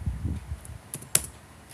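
Computer keys clack in a short irregular burst of taps, a few sharper strikes standing out, close and fairly loud.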